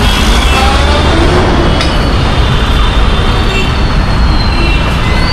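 Dense road traffic rumbles at a signal-controlled junction, a loud steady wash of engines and tyres with occasional higher whines, close and continuous without talk.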